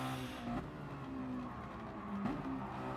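Racing car in the Mazda Challenge at Kyoto Driving Park in a video game, engine whine dropping sharply under hard braking with brief tire squeal into a chicane, then revs climbing again, loud and close without talk.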